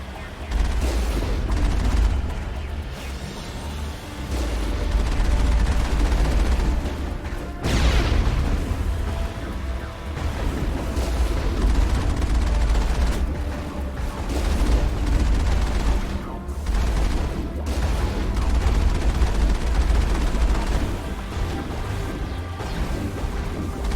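Rapid gunfire and heavy booms from the game Mass Effect, including a vehicle fighting Geth, roll on in dense, loud volleys over a rumbling battle backdrop lasting the whole stretch.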